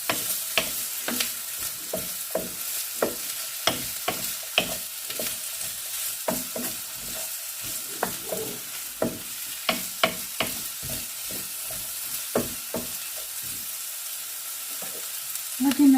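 Diced potato frying in a pan for corned beef hash, a steady sizzle broken by repeated scraping stir strokes, close and loud with no voices.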